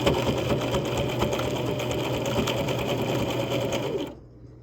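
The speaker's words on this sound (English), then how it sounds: "I'm gonna sew right there, but I'm actually gonna switch over to number 3 zigzag." Sewing machine running a number 3 zigzag stitch on a fabric apron, a steady close whirring drone with rapid needle chatter for about four seconds before stopping abruptly.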